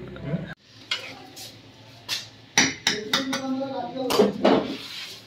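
About two kilograms of chicken cooking in a pot in a hostel kitchen for biryani: sharp metallic clanks and scrapes of a utensil against the pot at irregular intervals, close by, with people talking.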